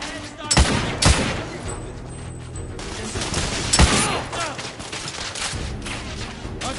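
Rapid gunfire in The Order 1886 on PS4 Pro, bursts of shots cracking out over a dense, continuous battle din, with a few sharper loud reports standing out.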